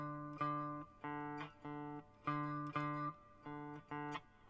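A guitar plays a D note several times in a row, each sustained tone separated by brief gaps, clean and fairly quiet with no voice.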